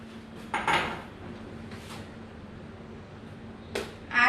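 A bowl is handled in a kitchen for whipping cream, giving a few scattered clinks and knocks of dishware, one near the start and a couple toward the end, with quiet gaps between.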